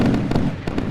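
Missiles launch and explode in the naval combat game Sea Power, heard as a dense, continuous roar of rumbling blasts with a few sharper cracks standing out.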